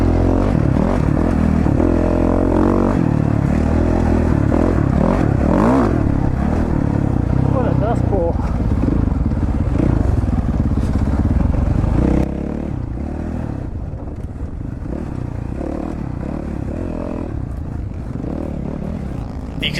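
Dirt motorcycles racing in the Oreana 100 desert race, heard from a rider's own bike: a loud, continuous engine roar with rising and falling revs and clattering over rough ground, dropping slightly in level partway through.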